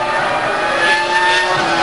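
A Renault Formula 1 race car at the European Grand Prix, its engine giving a loud, high, steady whine close up with a slight rise in pitch, and no voices over it.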